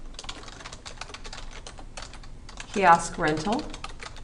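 Rapid clicking on a computer keyboard runs steadily throughout, fairly close, with a person speaking over the keystrokes toward the end.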